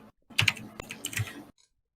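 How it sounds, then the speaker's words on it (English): A loud computer keyboard clacks in a short burst of several quick keystrokes, close and crisp, then stops into silence. "my keyboard is super loud"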